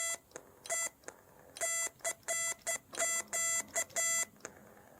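Morse code tones keyed on a straight key added to the Project TouCans radio, a bright clean beep sounding in irregular short dots and longer dashes, fairly loud and alone.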